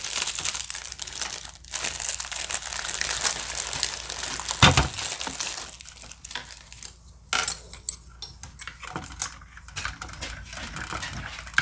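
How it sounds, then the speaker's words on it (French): Crinkling plastic and rustling packaging from a Polish MRE combat ration as its utensil packet is torn open, with irregular crackles and a few sharper handling knocks close by, no speech. "Je vais ouvrir les ustensiles."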